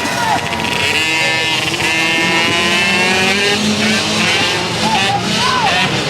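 Race cars blast away at a speedway, their engines roaring loud and steady throughout while an announcer talks over the noise.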